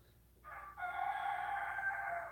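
A rooster crows once, nearby and clear: a short rising opening note breaks into a long, sustained, steady cry that carries to the end over a quiet background.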